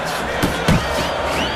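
Combination body punches in the boxing video game Fight Night Champion, two or three sharp thuds landing in quick succession over steady crowd noise.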